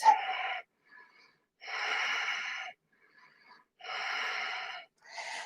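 Slow, deep breaths drawn during a yoga vinyasa flow focused on back bends: three long airy exhalations with short pauses between, close and fairly loud, and no talking.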